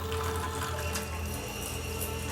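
Water runs steadily from a tap in a continuous, even rush with no pauses, close and fairly loud, with no voices over it.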